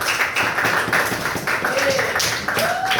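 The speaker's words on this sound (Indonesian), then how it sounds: "Ya, berikan aplaus." Applause for a student in a classroom: many hands clapping in a quick, uneven patter that lasts the whole stretch, fairly loud and close, with some voices mixed in.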